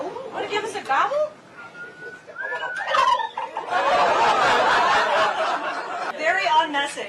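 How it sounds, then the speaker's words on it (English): A large pardoned Thanksgiving turkey over 50 pounds lets out warbling gobbles amid people talking and chuckling nearby, with a busy, noisy crowd around it. "Oh, want to give us a gobble?"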